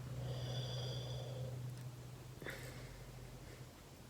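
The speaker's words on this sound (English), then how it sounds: "You're just gonna breathe in," A slow inhale through a Himalayan salt inhaler, soft airy breathing with a low rasping hum, followed by a quiet exhale and a small click, heard close and faint with no talking.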